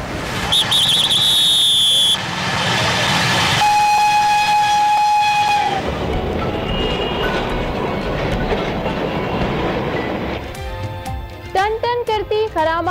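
A tram in Karachi rolls along with a rattling, clattering run and a drawn-out whistle tone, under a layer of music and other sounds, then shorter chirping tones near the end.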